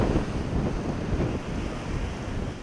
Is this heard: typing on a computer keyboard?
no